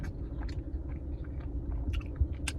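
Close, soft chewing of a bite of buttery, freshly made donut from a Boston shop, a few moist crunches and mouth sounds at steady volume with no talking.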